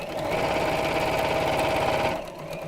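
Sewing machine stitching fabric for an Easter basket, a steady rapid mechanical whir running for about two seconds and then stopping abruptly, close and prominent with no talk.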